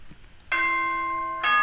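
Announcement chime in the Danganronpa video game: a short soft note, then a sustained bright electronic tone holding for nearly a second before another chime strikes at the end.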